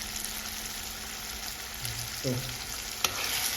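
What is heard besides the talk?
breadfruit and dumpling frying in a pan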